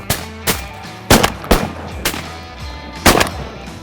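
Shotgun blasts while duck hunting, six sharp reports in irregular succession, some close and loud, others slightly softer, with a brief echoing tail after each.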